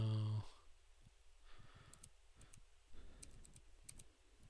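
Scattered clicks of fingers typing on a computer keyboard during a PHP programming lecture, faint and irregular against a quiet room hum, with a short burst of other noise at the very start.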